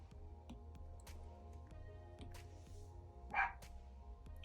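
A single short dog bark rings out at a distance, faint and brief, rising over a quiet room with light ticking and tapping sounds around it.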